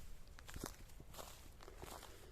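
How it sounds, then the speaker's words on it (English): Footsteps of people walking through undergrowth on a hillside trail near a harbour, soft crunching and rustling steps at an irregular pace, quiet and close with little else around. "there is literally no sound apart from us walking amongst the undergrowth"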